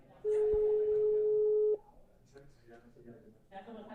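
A single steady telephone tone sounds for about a second and a half as a call is placed, clear and loud, then drops away to quiet background and faint voices.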